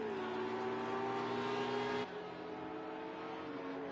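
Race cars at Circuit Zolder in Project CARS 2 hold a steady, droning engine whine that shifts pitch partway through as the cars run on without talk.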